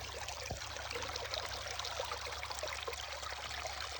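A hillside creek runs steadily near a logging road, a continuous soft wash and trickle of flowing water, fairly faint and unbroken, with no voices.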